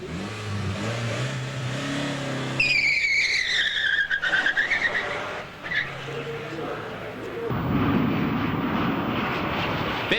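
A Plymouth Laser roars through a timed run in the 1989 One Lap of America, its engine climbing in pitch through the gears, loud and close, with a voice talking over it.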